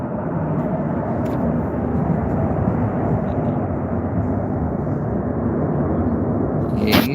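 A light aircraft touching down and rolling along a runway near islands, a steady broadband engine and wind roar held at an even level throughout, with a brief sharper burst near the end.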